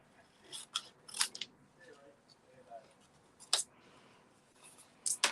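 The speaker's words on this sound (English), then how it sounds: "take my snips and just cut that" Hand snips cutting through paper while making a birthday piggy card, several crisp, close snips spread across the moment with quiet handling noise in between.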